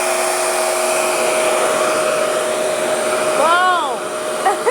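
A Revair hair dryer blows with a loud, steady, close whoosh and a constant motor whine while drying hair; near the end the airflow shifts briefly as the hair is moved.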